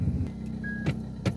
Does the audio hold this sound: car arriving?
yes